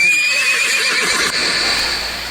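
A horse gives one loud, close neigh that whinnies and trembles before fading out, with no other sounds around it.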